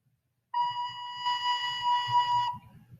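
A recorder sounds a single sustained B note, a clear pure whistle-like tone held steadily for about two seconds, close and alone.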